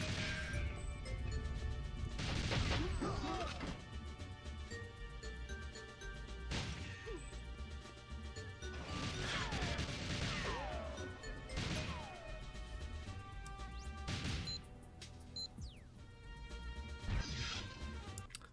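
Glass door on the Aztec stage of the GoldenEye video game opening, heard as a string of sharp crashing, smashing hits spread through the clip over a steady bed of game sound.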